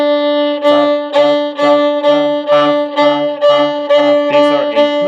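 A violin plays the open D string in steady eighth notes, about ten short, evenly spaced bow strokes in a brisk pulse, close and clear with no talking.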